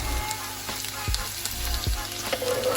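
Garlic frying with mushrooms and shallot in a pan, a steady close sizzle broken by a few low knocks and clinks of a utensil against the pan.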